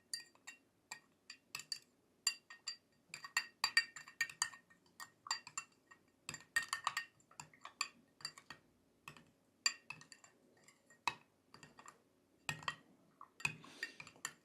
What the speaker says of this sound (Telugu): 2 కలుపుకొని ఈ విధంగా నీళ్ళలో ఇట్లా కలిపేసుకోవడమే